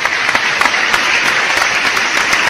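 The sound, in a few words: applause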